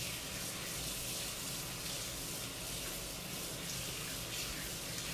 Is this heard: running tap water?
yes